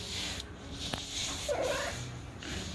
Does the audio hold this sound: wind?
no